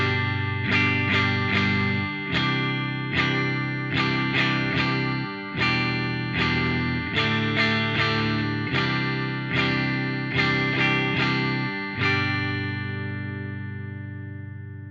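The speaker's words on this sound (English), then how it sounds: "just playing straight strums on the beat like this" An electric guitar strums chords straight on the beat with an effects-coloured, slightly distorted tone: a steady run of evenly spaced, ringing strokes, loud and alone, the final chord left to fade out.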